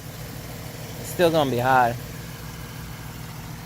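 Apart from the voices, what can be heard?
2011 Ford Mustang engine idling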